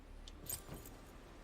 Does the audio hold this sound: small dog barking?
no